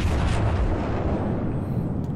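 Naval gunfire in World of Warships during a Colorado battleship match, heard as a sustained low rumbling boom that fills the whole moment and slowly fades.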